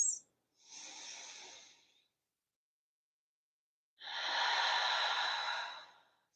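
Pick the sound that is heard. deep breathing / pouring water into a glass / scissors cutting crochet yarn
deep breathing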